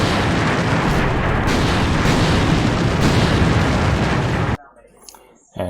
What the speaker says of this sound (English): the infantry are just sporadically shooting as they spot people